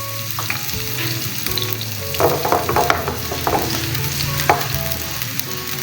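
Green garlic sizzling in hot oil for a tadka on a high flame, a loud close frying hiss with bursts of sharper crackling and spatter midway, without any talking.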